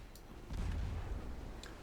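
A warship's naval guns fire in a Japanese campaign of a naval combat video game, heard as a muffled, distant boom with a low rumbling tail, followed by a few faint crackles.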